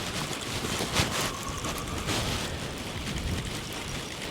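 Strong sea wind buffets a fishing boat off Norway, a loud, continuous roar with gusty swells and rumbling microphone buffeting, no voices.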